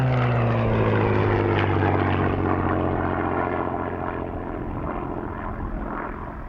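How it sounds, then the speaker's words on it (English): Two-seat Grace Spitfire Mark IX, a restored warbird displaying at the Duxford airshow, roars loud and steady with a deep piston-engine drone that slowly shifts pitch as it passes, then fades slightly toward the end. "The next aircraft to display is the 2-seater Grace Spitfire, another Mark IX variant."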